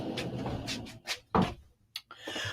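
A household door shut close by: brisk handling knocks and clunks, then a firm bang, with a couple of smaller thuds after, in a quiet room.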